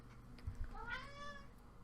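A pet cat named Zeus gives a single drawn-out meow with a rising then falling pitch, close and fairly quiet, preceded by a couple of soft thumps in the room.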